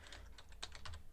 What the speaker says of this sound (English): whenever I'm typing something out for the second time